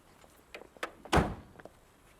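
A door thuds shut with a single solid knock-like impact, preceded by a few light taps and handling clicks nearby, in an otherwise quiet room.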